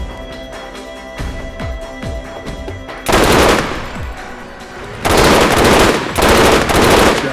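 Burst-fire weapon in a video game: a few lighter shots and mechanical clicks, then three loud, close, dense bursts of rapid fire separated by short pauses.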